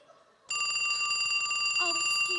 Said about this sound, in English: My phone's ringing off the hook.